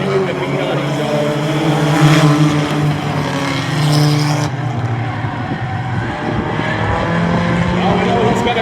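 Race cars roaring around Oyster Bed Speedway, a steady loud engine drone with rising and falling pitches as the pack passes, under a commentator's voice.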